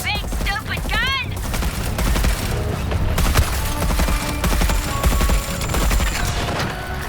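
A big gun in the Suicide Squad video game fires rapid bursts of shots over a dense mix of game effects and music, with a voice speaking over the steady barrage.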